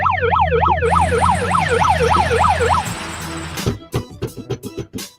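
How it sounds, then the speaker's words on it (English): A loud police siren wails up and down in rapid cycles and then cuts off. A series of heavy, irregular knocks and thumps follows. "Put the siren on."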